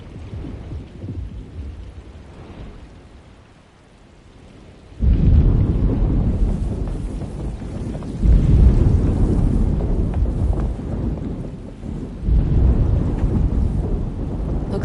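Thunder from an approaching storm in the video game Alone in the Dark rolls in low and heavy over steady rain, a quiet rumble giving way to loud, sustained booming that surges again near the end.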